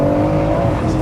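A 730bhp big-turbo BMW M140i accelerates hard, its engine a loud, close, sustained roar with rising tone and a hint of tyre scrabble.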